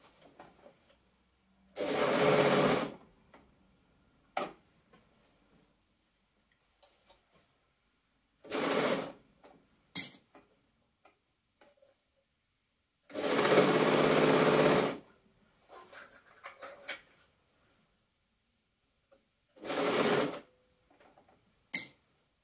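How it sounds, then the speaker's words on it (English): An overlocker runs in several separate bursts, sewing a bodice and two hood layers of stretch fabric for a dragon cosplay dress with a 12mm seam, each whir lasting a second or two, with quiet handling sounds between. "Now we're going to pop that round the overlocker with our 12mm seam allowance again"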